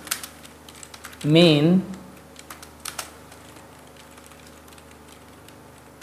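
Light clicks of a computer keyboard as a short program is typed, sparse and close, with a brief spoken word partway through.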